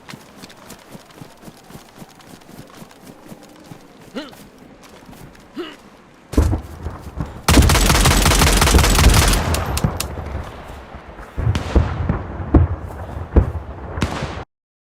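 Gunfire in the Livonia survival game while shooting at targets without crosshairs: a loud burst of rapid shots midway, then scattered sharp reports, after quieter ambient stretches.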